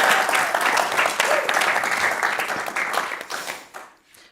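Audience applause greets poets Rob Waters and Nicole Smede as they take the stage at a BBC World Service Arts Hour event for National Poetry Month. The clapping is dense and sustained for about four seconds, then quickly tapers off to near silence.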